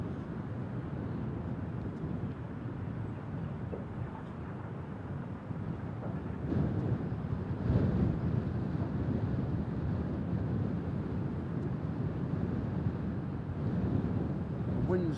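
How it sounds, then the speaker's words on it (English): Steady wind roars across an open air base at RAF Lakenheath, a continuous low rushing buffet on the microphone that swells slightly midway and holds without letup. "The wind's definitely picked up again."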